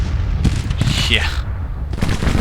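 Rapid bursts of gunfire from a Union '61 American Civil War strategy game crackle in a dense, continuous volley, with booming reports rolling under the noise for a couple of seconds.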